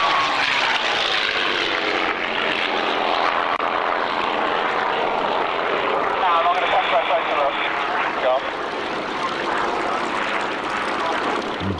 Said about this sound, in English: without all the chat from me, you'll just hear the sound of the aircraft